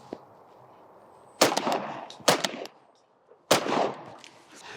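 Benelli M2 semi-automatic shotgun fired outdoors at clay targets, three sharp loud blasts spaced about a second apart, each followed by a short ringing echo, against quiet background.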